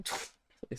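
A single quick sneeze bursts out at close range, followed by short soft vocal sounds, with no clear talking.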